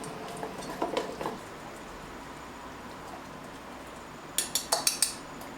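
Metal utensils scrape and clink in a bowl while a fatty, pasty mixture is stirred. Two short bursts of faint, rhythmic clinking stand apart from each other over quiet room tone, with no voices.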